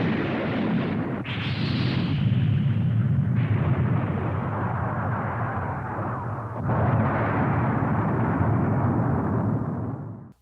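A planet blowing apart in the animated series Ulysses 31, heard as a sustained, roaring cartoon explosion with thick rumble and a shift to a second surging blast midway, loud throughout before cutting off.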